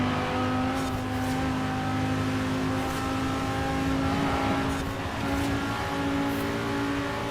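A Noble sports car in Forza Horizon 4 holds a steady, loud engine drone with slight rises in pitch as it revs, heard alone without talk.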